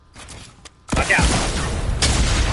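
A proximity mine goes off in Fortnite, a sudden loud blast breaking a quiet moment and rolling into a sustained rumbling crackle, with a second burst just after.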